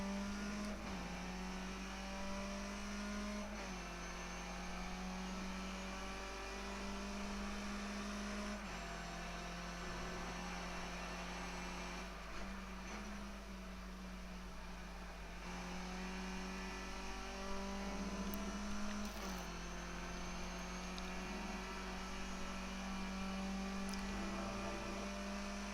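A Skip Barber race car engine in iRacing at Donington Park revs and drones continuously, with repeated rising pitch sweeps through gear changes and lifts for corners, steady and loud throughout with no talking.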